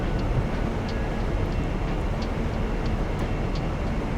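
An old train on the UK East Coast line from Newcastle to York in Train Simulator 2022 rumbles along at a steady pace, a dense, constant low roar with faint rhythmic clicks above it and no voices.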